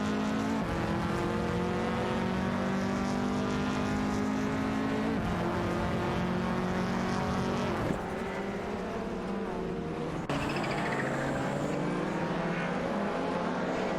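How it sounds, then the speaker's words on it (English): Toyota Celica and Lancia ECV race cars in a racing video game: engines roaring continuously at high revs, pitch climbing and dropping with gear shifts, loud and close with no voices. "It's a tight race between the Toyota Celica and the Lancia ECV Type."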